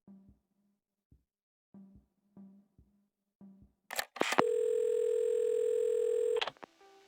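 A telephone dial tone from the video game Assemble With Care sounds as a steady, loud hum for about two seconds. Quiet, spaced taps and clicks lead up to it, and a brief click of picking up the receiver comes just before.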